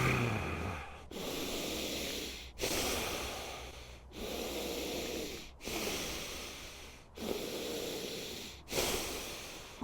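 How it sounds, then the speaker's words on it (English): Forceful breathwork through the nose, a steady series of six or seven loud, close, hissing breaths, each one sustained for about a second and a half and separated by short pauses, with no talking. "Full exhale."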